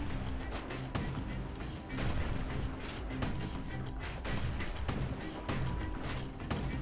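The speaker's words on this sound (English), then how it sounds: "too many of these things shooting at me at once" Enemy gunfire rains on the player in Bastion, a dense, loud barrage of repeated cracks and thuds over a continuous rumbling game background.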